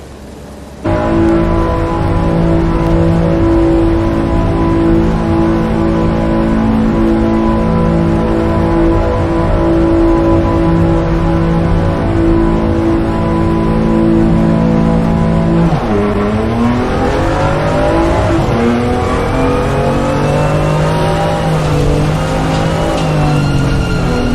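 BMW M2 CS race cars leave the pit lane onto the wet Nürburgring circuit in rainy qualifying, engines droning loud and steady, then revving and shifting with rising and falling pitch as a car accelerates past.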